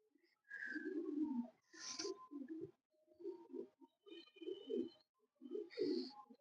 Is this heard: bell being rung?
no